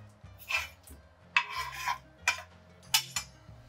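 A knife thinly slicing Japanese cucumber: four separate, crisp cutting strokes with short rasping tails, heard close up over a low, quiet hum.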